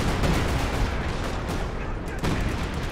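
Machine-gun fire sounds in a Company of Heroes 2 2v2 battle, a dense continuous rattle of gunfire and explosions, loud and unbroken, mixed with other combat noise.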